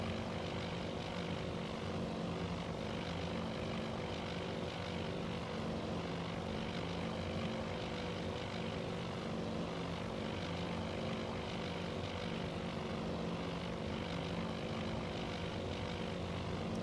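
Propeller engines of bomber aircraft in the Task Force Admiral naval warfare game make a continuous, even droning roar that holds steady and fairly loud throughout, with no talking.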